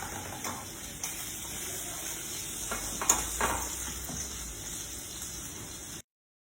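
Fish skin frying in a hot pan, a steady dense crackling sizzle with occasional louder pops, close and continuous for about six seconds before stopping abruptly.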